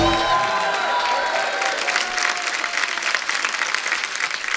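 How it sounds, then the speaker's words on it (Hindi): A studio audience at a Hindi comedy show gives loud, sustained applause that fills the room evenly, with a brief voice at the very start before the clapping carries on alone. "बहुत बहुत स्वागत और जोरदार तालियां।"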